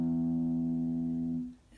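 A deep note on a guitar's low E string rings with a rich, steady low tone, then is damped and fades out after about a second and a half.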